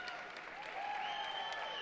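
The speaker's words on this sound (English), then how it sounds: "he's going to get an ovation from the crowd and from the Dixie State bench" A crowd and team bench at a Dixie State versus UCCS men's college basketball game give an ovation: sustained, even applause filling the arena at a moderate distance.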